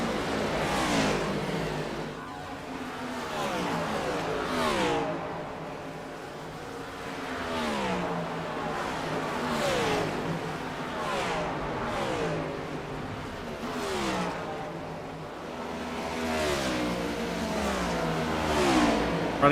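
Stock cars in the iRacing sim race on track, several engines revving up and down in repeated sweeping passes, loud and continuous throughout.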